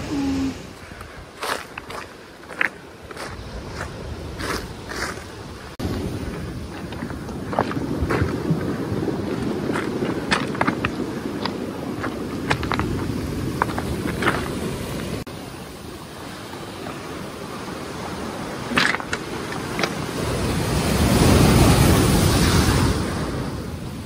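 Big ocean waves on the Madeira coast rumble and crash under gusting wind buffeting the microphone, with one swell building loudly near the end.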